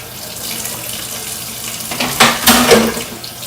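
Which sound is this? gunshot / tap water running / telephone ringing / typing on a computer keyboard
tap water running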